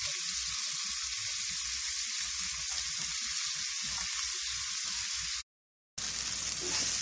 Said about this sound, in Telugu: రైస్ వేసుకొని కొంచెం మీడియంకి ఫ్లేమ్ పెంచుకొని బాగా మిక్స్ చేసేసుకొని